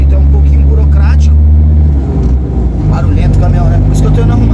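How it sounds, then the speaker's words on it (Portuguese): A loud truck engine drones close by with a steady low rumble that shifts in pitch midway, while someone talks over it. "barulhento o caminhão, né?"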